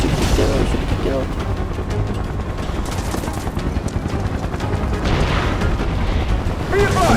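Video game gunfire and explosions from Final Fantasy Remake form a dense, continuous barrage of rapid shots and rumbling blasts, loud and unbroken, with voices talking underneath.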